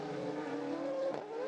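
Race cars rounding the turns 6–7 chicane at the Hungaroring circuit under lights-on caution, a close, steady engine drone with shifting pitch and a brief tire scrub near the end, no talking.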